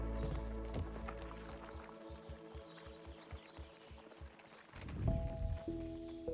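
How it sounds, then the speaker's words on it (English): A character's footsteps in Grounded 2, a run of evenly spaced, fairly loud thuds over a layered game music and ambience bed, followed by a swell of other game sounds. "I don't like how his footsteps are too loud."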